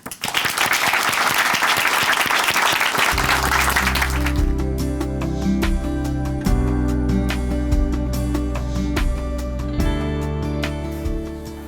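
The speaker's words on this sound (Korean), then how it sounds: "박수로 모시겠습니다" Applause from a church congregation greets a woman coming up to give her testimony at Chuncheon Hanmaeum Church, a dense crowd clapping for about four seconds before organ or keyboard music takes over and continues.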